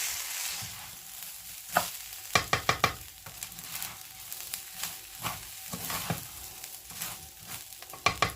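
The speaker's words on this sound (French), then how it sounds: "je vais faire rissoler mon riz dans cette huile-là" Basmati rice sizzles in a thin layer of oil in a pan, with a steady frying hiss broken by sharp scrapes and clatters of stirring, close by and with no voices.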